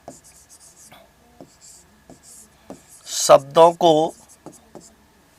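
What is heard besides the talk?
writing on a board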